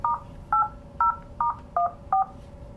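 Six short two-tone keypad beeps, evenly spaced about half a second apart, sound while a system name is keyed into a QDX 6000 unit, each tone clear against a low steady hum.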